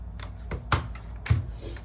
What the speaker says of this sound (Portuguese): Vou conectar esse teclado aqui